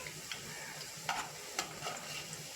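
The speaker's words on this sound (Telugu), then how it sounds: "వేగాయి కదా, వేగుతున్నాయి ఒక సైడు." Sweet corn vadas frying in oil over a medium flame, a soft steady sizzle with a few light stirring clinks and crackles, faint and close, with no voices.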